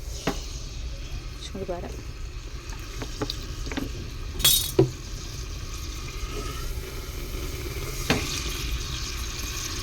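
Food fries in pure coconut oil in a pan, giving a steady soft sizzle. Occasional clinks and stirring sounds rise above it, and a voice speaks briefly.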